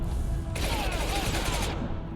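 A high impact shot fires in Mass Effect 2, a loud burst of rapid gunfire that blasts over a constant roar of battle noise.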